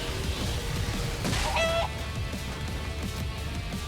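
A chicken clucking in the video game Skyrim, a run of close, loud, rapid clucks over light background noise, with a brief higher squawk partway through.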